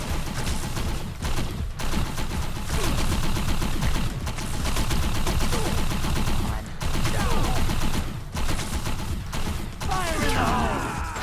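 Dense gunfire rattles in the Defiance shooter game, rapid bursts of automatic shots and repeated volleys with brief pauses, loud and close throughout.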